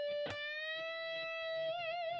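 On electric guitar, one string is bent at the 15th fret on the E string while a note is held beneath it, so a single long sustained tone sounds quietly with a slight wavering, after a short picked attack.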